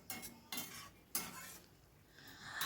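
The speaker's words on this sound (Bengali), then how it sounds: "এবারও একটু নাড়াচাড়া করে দিচ্ছি।" Spoon or spatula stirring pumpkin curry in a pan, with three distinct scraping strokes against the metal followed by a softer rustle, close and fairly quiet.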